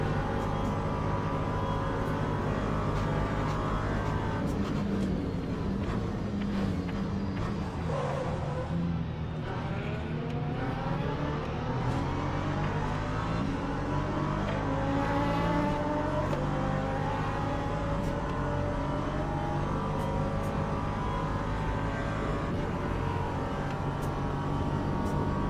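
An LMP2 prototype race car in a racing game roars past with a loud, sustained engine note that rises and falls in pitch as it passes, dominating for over twenty seconds with no talk.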